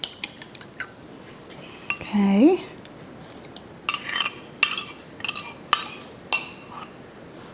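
Metal utensil clinking against a dish while egg yolks are broken, a run of sharp separate clinks at close range, with a short voiced word partway through.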